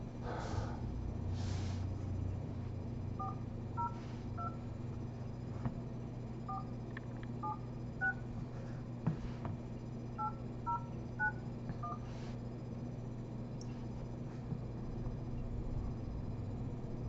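A phone keypad dials a number, sending a series of distinct tones in quick groups of two or three with short gaps between them, heard over a steady electrical hum with occasional soft breaths and clicks.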